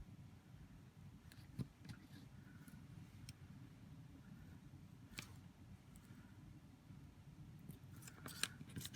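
Scissors make slow, careful cuts through material while making a wish bracelet, giving soft, sparse snips over a low steady background hum.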